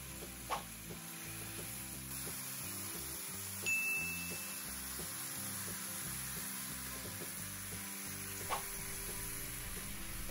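Pieces of fish fry in olive oil in a pan over high heat, a soft, steady sizzle heard close up with a few clinks of utensils against the pan.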